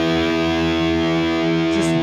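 Distorted electric guitar holding a high chord a hair out of tune, a single loud sustained strum ringing for about two seconds with no talk.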